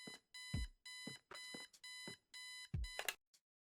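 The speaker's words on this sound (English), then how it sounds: "So you have to deal with your alarm clock yourself." An alarm clock in the video game Kathy Rain rings in six loud, evenly spaced electronic bursts, each roughly a third of a second long with brief silences between, ending in a short final blip.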